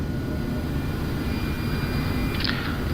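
Airbus A330 jet engines spooling up on the takeoff roll in the Prepar3D flight simulator, a steady loud roar with a high whine running through it and a brief chirp near the end.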